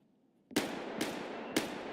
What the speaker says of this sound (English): Scav is shooting at somebody at Raz or the hole, one of the two.